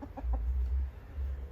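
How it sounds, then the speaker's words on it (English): A rooster with large spurs gives three quick, close clucks in a row, then falls quiet over a low background hum. "I just hope he's not a mean rooster"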